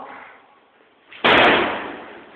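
Boys bang on a stuck student elevator door: after a faint muffled rumble, one sharp, loud metallic slam lands close by and rings out as it decays.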